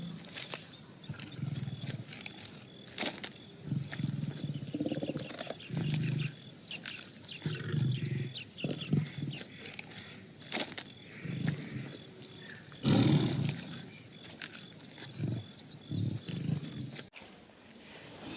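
A tiger roars near a village, low rumbling growls repeating in bursts at moderate loudness, with faint bird calls and ambient noise around them.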